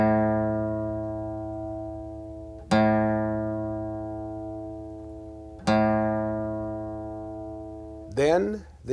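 Plucked guitar A string ringing out as a tuning reference, struck three times at roughly three-second intervals, each note loud at the attack and slowly decaying, with a brief voice at the very end.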